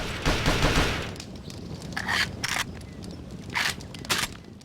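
DWP-5 submachine gun in Perfect Dark Zero firing several short bursts of rapid shots, loud and close, with brief gaps of quieter ambience between them.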